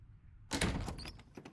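Cabin door opening in the video game Slay the Princess, an abrupt loud creaking swing after a quiet hum, followed by a few fainter rattles and thumps.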